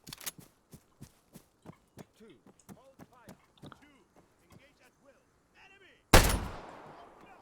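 In the Arma 3 game, a shotgun loaded with slugs fires a single loud, booming shot with a long decaying tail, preceded by a series of soft, evenly spaced clicks and steps under intermittent talk.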